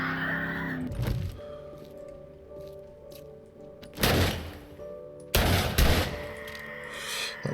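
Gunfire in the survival game 7 Days to Die: a few loud, heavy shots spaced seconds apart, each a sharp blast with a short rumbling tail over a low ambient game backdrop.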